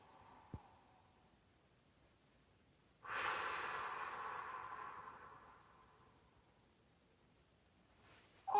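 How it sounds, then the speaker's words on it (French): A child's long, breathy exhale during a stretching exercise, soft and close, swelling then fading over a few seconds, with a faint sniff before it and near-silence around. "On inspire encore une fois. Et on expire."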